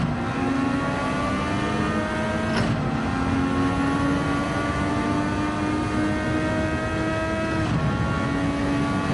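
Honda MP4/4 race car engine in Gran Turismo 7 howls at high revs, pitch climbing steadily through gears with two sharp shift drops, loud and continuous with no talk.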